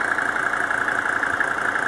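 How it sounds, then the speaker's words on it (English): A car engine idles smoothly and evenly, a steady close hum with no talking over it. "You can hear and see it's very smooth at idle."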